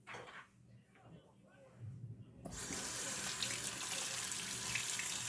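Cold tap water running into a small bowl in a home kitchen, starting after a few quiet handling sounds and then pouring steadily and fairly loudly for the remaining seconds.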